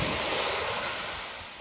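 Pacific Ocean waves at Point Lobos, California, a broad rushing surf wash mixed with wind buffeting the microphone, loud and continuous before easing slightly.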